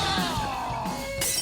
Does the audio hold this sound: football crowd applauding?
no